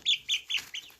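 A pet chicken lets out four quick, close, high-pitched clucks in a rhythmic run, sounding alone.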